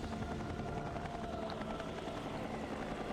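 A video game helicopter chops steadily in the background, a continuous mid-level rotor thrum with no one speaking.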